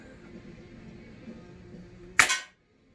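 A Crosman 1100S air rifle pellet strikes a metal frying pan target with a single sharp, loud clang that rings briefly and cuts off, heard over a steady low background hum.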